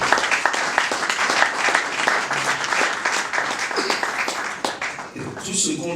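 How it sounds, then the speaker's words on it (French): A church congregation at a Full Gospel gathering in Togo applauding loudly and continuously for their national treasurer, with dense close clapping under voices and cheers that fades slightly toward the end. "Acclamons très fort pour notre trésorier."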